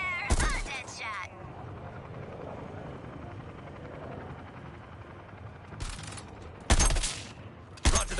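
Gunfire bursts out in the video game Suicide Squad: Kill the Justice League: short, sharp volleys crack over a steady helicopter-like engine drone, loud and close, with several shots in quick succession toward the end.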